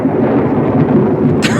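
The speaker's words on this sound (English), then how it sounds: "They're all scared of the thunder." Thunder: a loud, sustained low rolling rumble that fills the whole stretch with no break, and a brief sharp crackle near the end.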